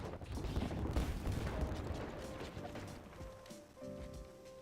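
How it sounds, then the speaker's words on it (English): Gibraltar's artillery bombardment in Apex Legends pounds a tournament match, a dense rolling barrage of heavy booms and crashes that starts loud and slowly thins, with a tonal game cue near the end. "Now they're getting hit with a Gibby bombardment."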